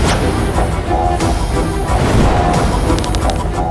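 Dense, loud battle sound effects of Ravana's storm of arrows, with continuous crashing, whooshing and booming layered without pause.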